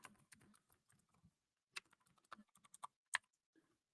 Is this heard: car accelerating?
no